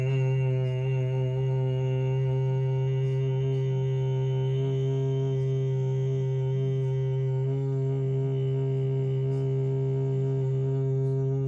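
Sustained low humming tone of Brahmari breath during a yoga class, a steady resonant drone held alone for several seconds without a break.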